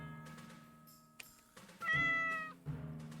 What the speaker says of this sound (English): that's the stream kitty